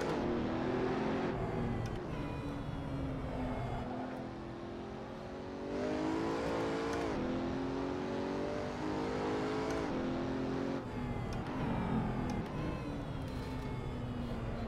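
A car engine in the racing game Assetto Corsa, from the Bonus Pack 3 DLC, revs hard under throttle, its loud whining tone climbing and falling through gear changes, with brief lifts off the power and no talking.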